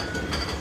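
Carolina Cyclone roller coaster train at Carowinds, a brief, steady rumbling clatter of cars on track that swells slightly at the end.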